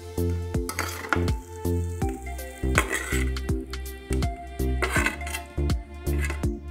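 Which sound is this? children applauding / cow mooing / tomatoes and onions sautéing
tomatoes and onions sautéing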